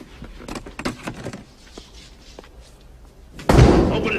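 A door is banged on or slammed in a tense confrontation: irregular knocks and thuds start it off, then a sudden loud crash lands near the end and is followed by a sustained roar.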